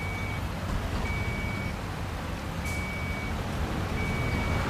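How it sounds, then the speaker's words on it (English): A DAF truck in Construction Simulator gives off steady reversing beeps, evenly spaced tones repeating four times over a loud, constant engine rumble, with a brief hiss of air partway through. "Let's get this reversed carefully."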